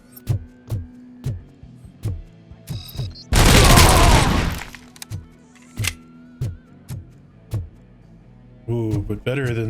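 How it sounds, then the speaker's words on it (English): A heavy LMG machine gun in RoboCop: Rogue City fires in spaced single heavy booming shots at a steady rhythm, broken by a loud sustained blast of rapid fire, with faint voices in between. "better than the shotgun is the big old LMG"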